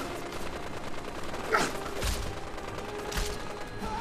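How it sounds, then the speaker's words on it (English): Gunfire in Fallout 4 as the Brotherhood shoots at people outside, a few sharp distant shots spaced over several seconds above a low background hum. "I think the Brotherhood is shooting people outside as well"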